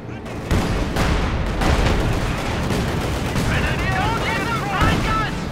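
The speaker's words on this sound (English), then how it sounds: "T-34 bombarding Germany trying to cross the ice" A Company of Heroes 2 battle on ice rages as a T-34 tank bombards German forces: dense, continuous gunfire and booming shell impacts fill the whole stretch loudly, with a voice faintly audible beneath the din.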